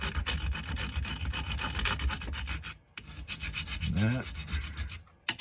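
A distressed finish on an AR rifle is sanded by hand: steady, close rasping strokes, a brief pause midway, and a single short spoken word near the end.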